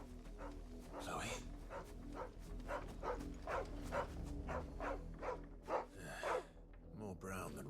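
A dog in Final Fantasy XVI barks in a steady run of short, regular yips over a low in-game music bed, fairly close and moderately loud, with a person talking over it at times.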